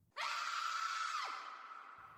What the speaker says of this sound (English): a woman's scream, faint but sharp, echoing through the trees.